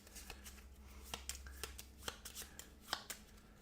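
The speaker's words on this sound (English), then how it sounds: "We have to shuffle his deck." A deck of cards from the Russian Railroads board game being shuffled during a solo playthrough, with crisp riffling bursts and quick taps at close range, fairly quiet over a low steady hum.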